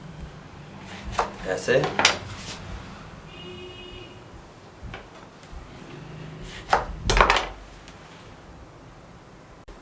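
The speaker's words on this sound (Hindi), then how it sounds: "लीमू को काट लें" A knife slices a lemon on a board for a green salad, a few sharp cuts and clacks clustered around two seconds and again near seven, with a voice speaking briefly in between.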